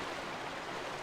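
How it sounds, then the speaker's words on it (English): Steady rushing flow of water cascading down inside the Lakebed Temple in Twilight Princess, a continuous, even wash of noise with no breaks. "We got some water coming down that way."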